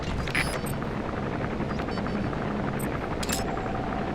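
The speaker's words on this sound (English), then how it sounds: "Looks like the arms dealer's chopper is going to patrol for the security forces" An arms dealer's patrol helicopter in Metal Gear Solid V: The Phantom Pain drones steadily overhead, a continuous rotor thrum with faint game beeps and clicks over it.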